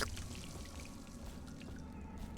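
Water being drunk in Dishonored: a soft, steady pouring and trickling rush, faint and even throughout the short stretch, without any talking.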